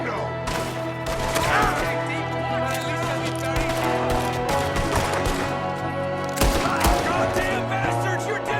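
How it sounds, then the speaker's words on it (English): Rapid gunfire in a Red Dead Redemption 2 shootout, with a shooter firing from a window, dense overlapping cracks over a constant background of music and game noise, loud and continuous throughout. "There's another one shooting from the window."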